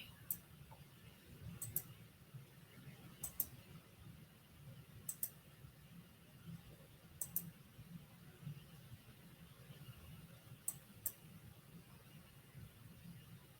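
A computer mouse clicks sharply at intervals, single and double clicks spaced a second or two apart, faint and close over a low, quiet background hum while documents are being compared.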